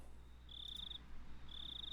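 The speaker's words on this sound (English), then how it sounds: "we're getting all those fucking cricket noises, for sure" Crickets chirp in the Higurashi video game, two clear trilling bursts at a steady pitch over a quiet low background hum.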